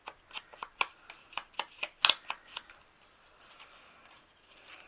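Paper being trimmed with scissors for a small handmade house booklet: a quick, even run of crisp snips, close and clear, then a few softer, scattered cuts with no voices.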